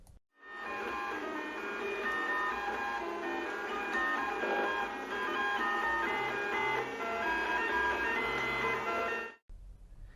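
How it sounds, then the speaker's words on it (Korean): An FDM 3D printer runs steadily and loudly, its stepper motors whining in layered tonal pitches with a low mechanical rumble, continuous for about nine seconds before cutting off. "FDM 프린터의 경우 이 프린터는 동작하면서 꽤 심한 기계음이 나옵니다"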